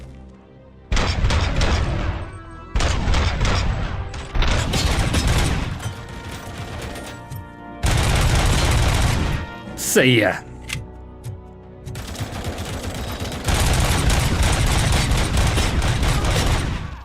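Gunfire in the video game Robocop: Rogue City, with loud bursts and heavy volleys broken by short pauses and mechanical clatter, while someone speaks briefly between the shots.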